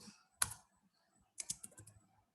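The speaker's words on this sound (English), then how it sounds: "So I'm going to type" Typing on a computer keyboard: a short burst of clicky keystrokes, a pause, then another quick run of several key taps, close and fairly quiet with no talk.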